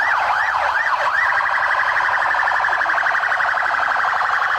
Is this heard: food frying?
no